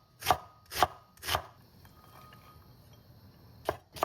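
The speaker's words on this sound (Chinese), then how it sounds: "给它切丁" A knife dices half an onion on a cutting board in sharp, close chops, three quick strikes followed by a pause and two more, each crisp and woody against a quiet kitchen background.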